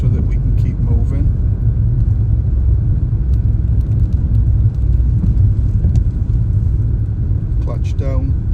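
A car on a road test route driving and braking at changing lights, then kept rolling in second gear: a steady low engine and road rumble runs under someone talking.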